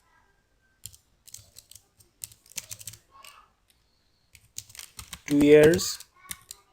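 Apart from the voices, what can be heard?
typing on a computer keyboard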